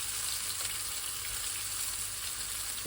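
Small fish fillets fry in a pan with a continuous bright, close sizzle that stays at an even level throughout.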